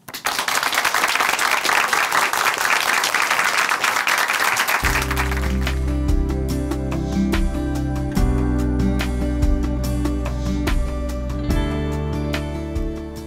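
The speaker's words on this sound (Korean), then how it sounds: "박수로 모셔볼게요" Audience at a church testimony program applauds to welcome a speaker, dense steady clapping from a crowd, with music entering partway through and continuing under the applause.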